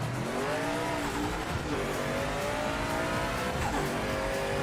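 Race car in Project Motor Racing accelerating hard with wheelspin, driven with no ABS or traction control, a loud continuous engine roar climbing in pitch with tyre squeal running alongside throughout.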